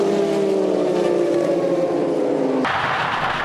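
A 1992 Mazda prototype race car's engine screams onboard at a historic race, climbing in pitch through a gear before an abrupt shift into a harsher, brighter roar, loud and close with no talk.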